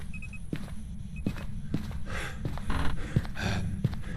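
Ghost footsteps in the horror game Phasmophobia, a string of evenly spaced thuds, about one every half second, heard over a steady low hum and breathy noise at moderate volume.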